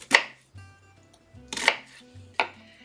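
A knife chops food on a cutting board in three sharp, separate strikes, close and crisp, with quiet low clatter between them and no speech.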